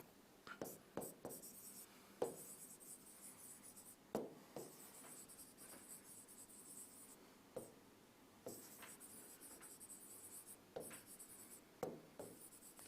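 A teacher writes an example on a classroom board, with soft scratchy strokes arriving in short irregular bursts and sharper taps between pauses, faint and close, with no talking.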